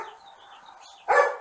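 A single dog bark rings out at a house after a stretch of quiet background, one sharp close yelp near the end.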